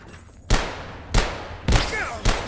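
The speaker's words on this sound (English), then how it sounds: "Maybe I'm getting sniped by another dude." Gunfire from a sniper in the video game Abiotic Factor, four loud sharp reports at irregular intervals, each with a booming low tail, over a steady game ambience.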